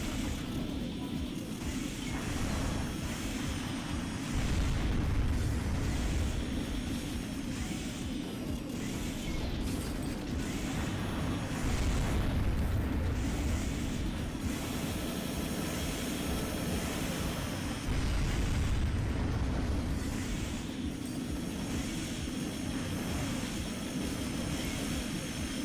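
Enemy aircraft roar continuously in a mech combat game, Armored Core 2, with a dense, steady engine drone and rumbling low-end bursts suggesting explosions and gunfire that swell periodically throughout.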